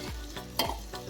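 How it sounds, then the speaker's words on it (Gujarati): A spoon stirs sliced tindora and green chillies in a pan held steady with tongs, making a few close, quick scraping strokes against the metal over a faint sizzle, with no talking. "આમ સાણચીની મદદથી આપણે તપેલીને પકડી લેવાની છે અને સારી રીતે આમ ચમચાથી મિક્સ કરતું જવાનું છે"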